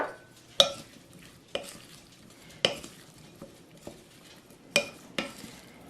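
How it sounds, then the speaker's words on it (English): Vegetables tossed with salt and pepper in a bowl, soft rustling under a handful of sharp clacks of a utensil against the bowl, spaced irregularly across a few seconds, no talking. "Mix it up."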